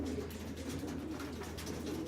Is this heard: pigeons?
yes